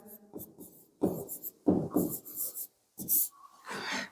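Marker or chalk writing factorial values on a board during a maths lesson, a series of short scratchy strokes and taps in irregular bursts with brief pauses between, close and clear in a quiet room.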